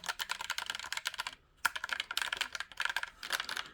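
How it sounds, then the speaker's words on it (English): Fast typing on a Roccat Vulcan 2 Mini keyboard gives rapid, crisp keystroke clatter up close, two dense bursts split by a short pause, with no talking. "I do type fast"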